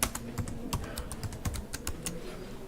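Computer keyboard typing during data entry of remarks while cancelling an e-way bill: a quick, irregular run of crisp key clicks, close and fairly quiet, with no talking.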